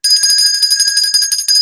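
A bright bell sound effect rings out as the levity bell, a sustained high chime that stays loud and close for about two seconds with no voices over it.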